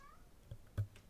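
A pet cat named Ozzy gives a brief meow indoors, a short soft call followed by a slightly louder one near the end, with a quiet room hum underneath.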